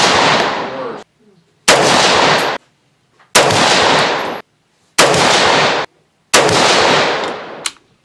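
Five loud, sharp rifle reports at roughly 1.6-second intervals, each with a long decaying echo tail, fired one after another at a range with Nosler 55 grain tipped bullets.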